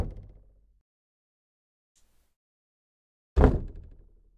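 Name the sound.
knocking on a door in a video game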